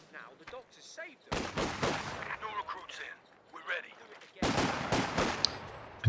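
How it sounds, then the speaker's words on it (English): Machine gun fire in the video game Company of Heroes 2 during a 2v2 match, two bursts of rapid crackling shots, one early and one late, with a commentator talking between and over them. "machine gun."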